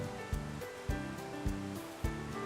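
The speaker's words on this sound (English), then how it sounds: "the Poudre River that runs directly behind the mill" The Poudre River runs directly behind an old feed mill, giving a steady rushing wash of water. Four evenly spaced low thumps pulse through it, moderately loud, and no one speaks.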